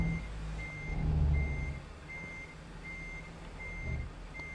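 A truck's reversing alarm in American Truck Simulator beeps in a steady, evenly spaced series while parking, with low engine rumble underneath and a brief swell of engine noise early on.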